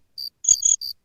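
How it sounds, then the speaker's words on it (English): Three short bursts of cricket chirping, a comedic silence effect, clear and isolated with pauses between the trills and no talk over them. "Crickets."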